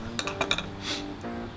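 A knife scraping and clinking against a plate while cutting crispy skin off a juicy beech-smoked duck leg, several sharp clinks in quick succession, close and clear, followed by a soft scrape with no talking.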